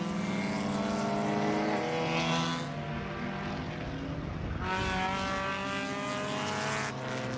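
Race cars at the FARA Miami 500 trail a pace car around the track. A steady, droning engine hum is heard from a distance, swelling and easing slightly as the field passes, with no voices.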